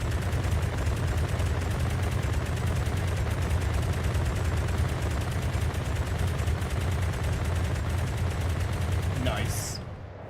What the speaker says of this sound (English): That is firing almost 10 rounds a second. Almost 10 rounds a second of 100mm full AP.